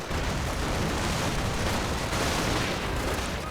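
Rapid grenade and artillery blasts from a World War II real-time strategy game, dense and continuous, with loud rumbling explosions overlapping one another without pause.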